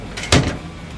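A storage drawer in the compartment of a modified Hilux single-cab pickup slides open with a brief rushing sweep and a sharp clack, close up and alone.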